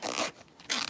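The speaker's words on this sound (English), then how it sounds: "we're gonna open that zipper" A zipper on a sewn fabric pouch is pulled open in two quick, close rasping strokes with a short pause between them.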